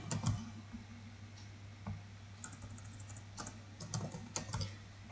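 Keystrokes on a computer keyboard while HTML form code is edited in Notepad, a steady run of light clicks with brief pauses, close and fairly quiet over a low hum.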